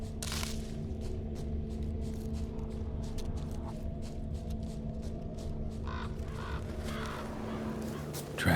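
Crows caw in The Witcher 3: Wild Hunt, scattered calls rising over a steady, moody ambient drone and soft music throughout, with no voices.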